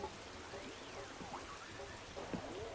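Rain falling in Animal Crossing: New Horizons, a soft, steady hiss running evenly throughout, with faint chiming game tones drifting over it.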